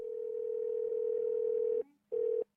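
A telephone line rings as a call goes to a home phone: one long steady electronic tone, a short pause, then the tone starts again and cuts off.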